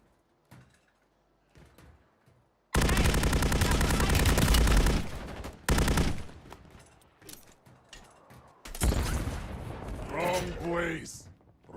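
Sustained automatic gunfire from a gun in the video game Warzone, a loud dense burst lasting a few seconds, then shorter bursts and more firing, with voices talking between and over it.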